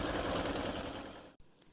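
Embroidery machine running a second pass over a double outline stitch on an eye mask in the hoop, a dense rapid needle rattle heard close and steady before cutting out abruptly near the end.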